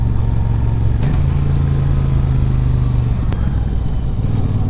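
Royal Enfield Super Meteor 650 cruiser motorcycle engine on a test ride, a steady low thrum close by that holds even for several seconds, shifts pitch slightly partway, with no talking.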